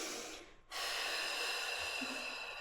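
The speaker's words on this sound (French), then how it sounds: "On inspire ici." A long, deep breath drawn in through the nose during a guided breathing exercise in an equipment-free full-body workout, loud and close, rushing steadily after a brief pause, with no talking over it.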